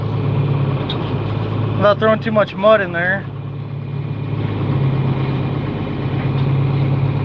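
A tractor engine running in a 100-acre Michigan field, a steady mid-low idle that holds throughout, close by, with someone speaking briefly over it partway through.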